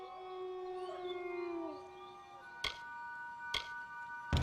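A wolf howling in the video game Kingdoms of Amalur: Re-Reckoning, long wavering howls layered over one another, then fading, followed by a few sharp clicks in a quiet game scene.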